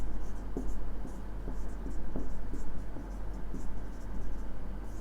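Pen scratching on paper while someone writes a note in a Rajasthan police setting, with soft irregular strokes over a steady low hum, no speech.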